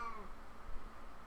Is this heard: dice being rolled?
no